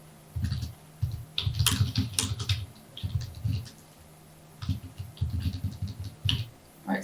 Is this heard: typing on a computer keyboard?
yes